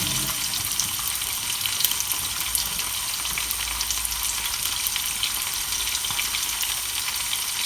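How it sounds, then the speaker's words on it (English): Cooked pasta tipped into a sieve for draining, a steady broadband rush of pouring water and steam splashing continuously at close range, with no talk. "I need to drain my pasta off in my sieve"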